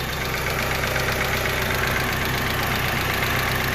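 A 1995 Mitsubishi Eclipse GST engine idles steadily up close, its constant rumble carrying a faint rapid lifter tick, with no voices.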